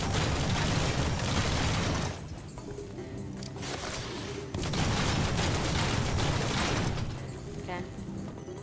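Front Mission 3 mech combat gunfire rattles in dense sustained bursts that break off, resume, then fade, with a voice talking over the game audio.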